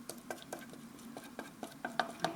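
A spoon stirs cauliflower pieces through cheese sauce in a pan, giving a series of soft, wet clinks and scrapes at a steady rhythm, close by, with the strokes growing a little louder toward the end.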